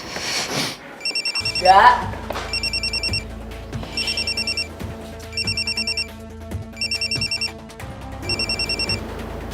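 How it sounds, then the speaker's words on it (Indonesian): A telephone rings in repeated short trilling bursts with steady gaps between them, loud and close, while a person speaks briefly near the start. "Arga, angkat teleponnya dong."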